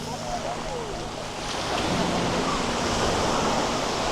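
Cold Pacific surf washing onto Maui's Black Sand Beach, a steady broadband roar of waves that swells louder partway through, with wind buffeting the microphone throughout.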